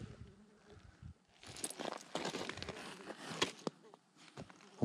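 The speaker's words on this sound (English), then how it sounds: "It looks like a bee of some sort or a fly." A bee or fly buzzes close to the camera beside a mountain trout stream, its buzz swelling loud in erratic bursts, then fading in and out among rustling and faint outdoor noise.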